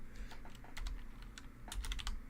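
Rapid typing on a computer keyboard, close and fairly quiet, with irregular clusters of light key clicks over a low background hum.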